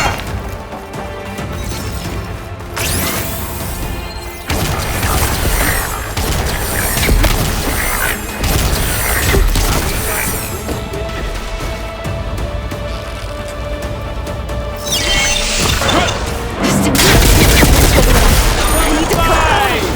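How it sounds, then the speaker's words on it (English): A machine's coupling shot loose in Horizon Forbidden West, with repeated loud impacts and booms that build to a heavy crashing collapse near the end, mixed with a voice. "I need to shoot the coupling holding up the stem."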